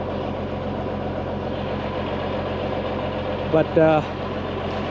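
A bulldozer spreading snowy topsoil along the edge of a firewood processing area runs with a steady, low, rumbling engine drone throughout, and a voice briefly cuts in near the end.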